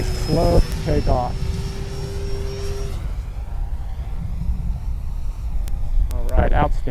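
An E-flite Air Tractor 1.5m electric RC airplane takes off from a grass field. Its motor tone holds steady and then fades as it climbs away. Someone talks over it at the start and again at the end.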